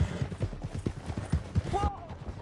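A horse gallops hard in Red Dead Redemption 2, its hooves thudding in a quick, even rhythm close by, followed by a short whinny near the end as the beats stop.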